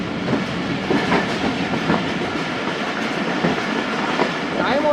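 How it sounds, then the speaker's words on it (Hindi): Jaffar Express passenger train rolling on rails near Kharian Cantt, steady rumble with a regular clickety-clack of wheels over rail joints, heard close from inside, a faint squeal near the end. "खारिया कैंट रेलवे स्टेशन पहुंच रही है ट्रेन"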